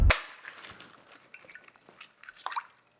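A single sharp crack of an egg against a bowl, followed by soft wet drips and small clicks of shell and liquid settling.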